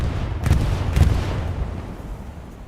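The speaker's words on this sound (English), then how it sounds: "bombing run coming through." Bombing run in the video game Hell Let Loose, deep booming explosions with two heavy thuds close together, then a rumbling decay fading away, with no talking.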